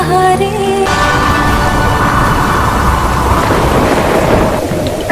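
Heavy thunderstorm with a loud thunder crack after music ends abruptly, then dense rain and rumbling roar filling the rest, close and intense.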